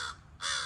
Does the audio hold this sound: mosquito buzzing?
no